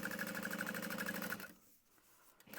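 A sewing machine top stitching a quilted vinyl bag runs in a steady rapid rhythm for about a second and a half, then stops, leaving faint room noise.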